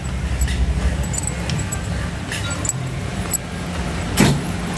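Steady low traffic rumble from many cars in a crowded parking area in Batangas City, with faint engine hum, occasional clunks and a jingle of keys nearby.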